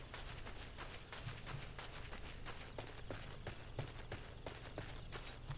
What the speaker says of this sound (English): peaceful sound of footsteps clambering through the forest